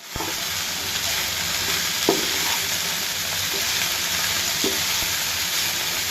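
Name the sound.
frying chopped onion and garlic in pan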